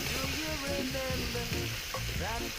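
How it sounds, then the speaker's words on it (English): Vegetables hit hot oil in a pan for a coconut curry cod, setting off a loud, steady, crackling sizzle with stirring clatter that runs through the whole moment, no talking. "add a little more oil to the mix. And then what I'm going to do is just dump my veggies in."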